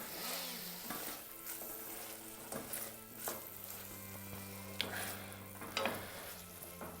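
Wine vinegar hitting a hot pan to deglaze it, a soft crackling sizzle with scraping and clinks from stirring, under a steady low hum, moderately close.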